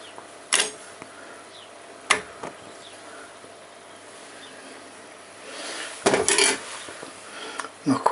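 A metal simmer ring is set onto a gas stove burner, giving a few sharp clanks and clinks at irregular moments, with a cluster of rattling metallic knocks near the end and no speech.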